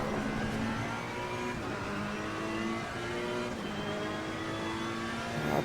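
GT3 race car engine in the Assetto Corsa Competizione racing game at the Nürburgring, a loud continuous drone with rising and falling revs through gear changes, alone without talk.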